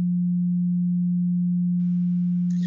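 A steady, pure low sine tone mimicking tinnitus in a contemporary composition about Beethoven's distorted hearing, loud and unbroken throughout, with a faint hiss and a brief chirp entering near the end.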